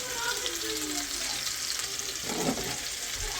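Homemade meatballs sizzling in a frying pan, a steady broad hiss of hot oil throughout with a brief clatter near the end, close up and without talk.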